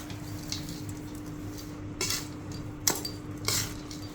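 Edible gum being mixed into powdered sugar and satu in a bowl, heard as a few sparse, light clinks and scrapes of a spoon against the vessel over a quiet background.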